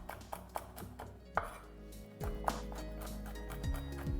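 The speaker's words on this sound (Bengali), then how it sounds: "আমি এখানে নাটসগুলোকে একটু মোটা মোটা করে স্লাইস করে কেটে নিচ্ছি।" A knife cuts almonds into thick slices on a cutting board, giving a series of close, uneven chopping knocks over a low steady background hum.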